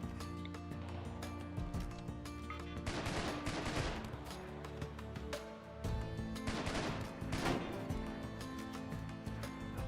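Artillery firing in RimWorld with the Vanilla Expanded mod: dense volleys of booming shots and crackling bursts layered over a continuous game soundscape, swelling in two heavy barrages, loud throughout.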